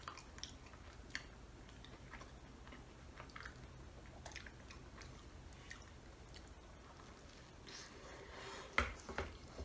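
Close, quiet chewing of a hot Papa John's Papadia flatbread sandwich, with soft wet squishes and bites scattered over a low steady room hum.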